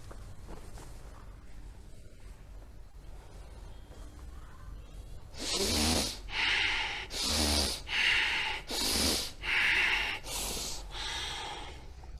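Forceful rhythmic breaths during a yoga breathing exercise done sitting in Sukhasana: six or seven sharp, loud exhalations in steady succession, close to the microphone, following a stretch of quieter background sound.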